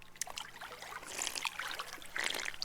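A player character in the game Rising World takes a drink of water: soft trickling, splashing and gulping sounds running a few seconds, moderately faint, with no talk.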